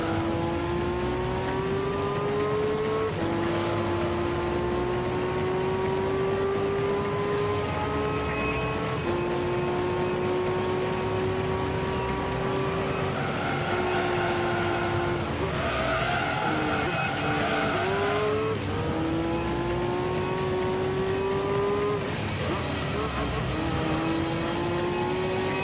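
Race car engines drone steadily with shifting pitch and bursts of tire squeal and skidding in Gran Turismo 3, loud and continuous throughout with a sharper skid flurry midway.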